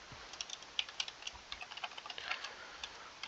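Code being typed on a computer keyboard, with quiet, irregular key clicks in quick bursts and short pauses, faint and close, with no voices.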